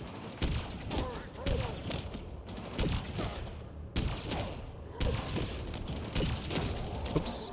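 Gunfire in the Halo video game rattles in repeated rapid bursts, with a few short pauses between volleys; no one talks.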